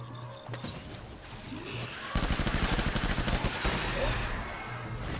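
Gunfire in Death Stranding, a burst of rapid shots in the middle of the clip, loud and close, set against ongoing game ambience.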